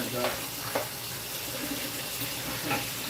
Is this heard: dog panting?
no